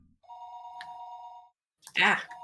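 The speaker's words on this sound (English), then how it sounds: "It was then I noticed that the phone was ringing." A telephone rings in the Higurashi visual novel game, a near, steady electronic trill lasting about a second, followed by a short spoken exclamation.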